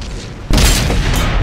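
A tank cannon fires a blind shot in the World of Tanks video game on PS4: one sudden heavy boom that cuts in hard and then rolls on as a dense, sustained rumble.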